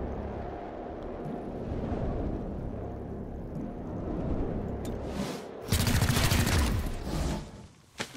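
Gunfire in the video game XCOM Chimera Squad: rumbling bursts of shots and impacts build over several seconds, peaking in a loud, dense volley near the end before dropping away.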